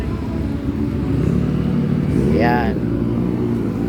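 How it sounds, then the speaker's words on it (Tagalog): A car passes along a street near a small roadside eatery, its engine swelling into a loud close rush partway through and then fading, with a person speaking over the traffic noise. "Kotse naman eh."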